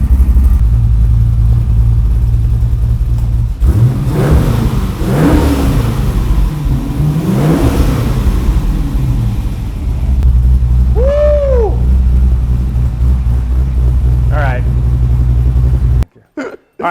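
Big American V8 swapped into a cheap Porsche 911 rumbles loudly and steadily at idle, with several rising and falling revs in the middle, then cuts off abruptly at the end.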